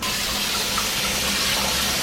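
Tap water runs steadily over rinsed chickpeas in a colander, a constant close rushing splash without pauses or voices.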